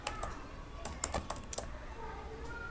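Quick keystrokes on a computer keyboard type out code, a short irregular burst of sharp clicks and taps, close but quiet, with no talking over it.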